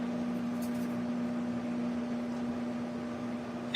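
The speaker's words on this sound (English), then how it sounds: "He's using the microwave." A microwave oven runs with a steady, even hum and drone throughout, close and constant, with no talk over it.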